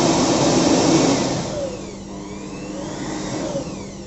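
A 650-watt electric air blower runs loud and steady with a harsh whooshing roar that eases slightly after the first second and then holds a constant whine.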